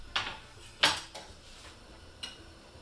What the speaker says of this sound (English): we'll get our lid on this